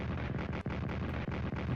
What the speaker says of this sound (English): banging in the artillery shells